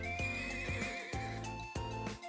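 Horse in the video game Trails of Cold Steel gives a loud, close whinny with repeated hoof beats, several sharp strikes spaced through the short stretch, no talking.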